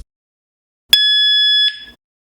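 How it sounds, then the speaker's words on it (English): A Nulock smart bike lock sounds a single loud, sustained electronic tone lasting under a second as it unlocks, then cuts off with a short fading tail, otherwise quiet. "This is how it sounds when you unlock it."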